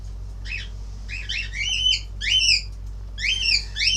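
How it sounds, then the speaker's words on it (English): A pet bird screeching and squawking in repeated harsh bursts, loud and close, with short pauses between calls over a steady low hum. "Stop screaming! Why are you screaming, bird?"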